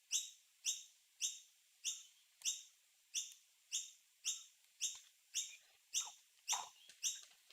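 A run of short, sharp bird chirps repeats at an even pace of roughly two per second, quiet but distinct, with no speech.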